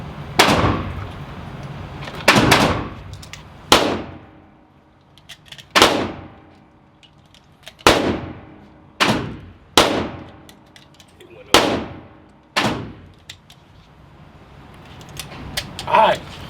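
An FNX 45 Tactical pistol fires .45 ACP rounds outdoors, about ten sharp, loud shots spaced every one to two seconds, each trailing a short echo.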